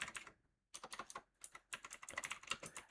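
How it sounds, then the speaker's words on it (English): Rapid keystrokes on a computer keyboard come in close, dense bursts with a brief pause near the start, no voices. "Just typing one thing that I needed."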